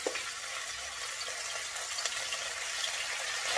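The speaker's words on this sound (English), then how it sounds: "We're going to get this oil ripping hot, and then we're going to add the beef" Beef sizzling and frying in ripping hot oil in a wok, a steady, dense crackle that holds evenly throughout at close range, with no one talking.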